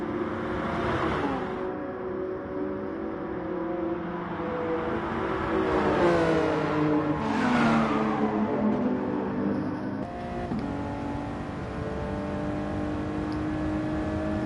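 Toyota and Jaguar race cars drag racing side by side in a video game, engines droning and revving steadily with rising and falling pitch sweeps over a constant roar, no commentary.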